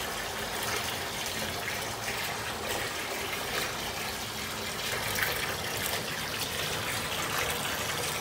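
Water running steadily from a tap or shower while locs are washed, a close, continuous splashing gush with no break.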